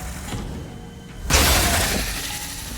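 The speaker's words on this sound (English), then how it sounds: "I also want to see this shatter rebar" A shatter rebar round fired in a video game bursts with a sudden loud, crashing shatter about halfway through. A bright, noisy spray of breaking debris follows and fades over about a second, after a quiet stretch of low ambient rumble.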